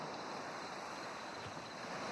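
Steady ocean surf washing in a continuous broad wash, close and fairly loud, with no voices.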